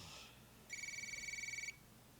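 A phone in a Breaking Bad scene rings with a steady electronic trill, one continuous burst of about a second, loud and close over a quiet room.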